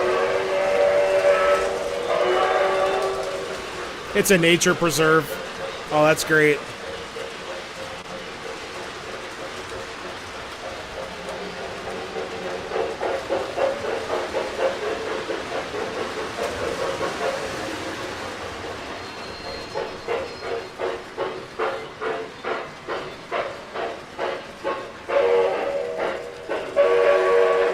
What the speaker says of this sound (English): this is an old TMCC engine.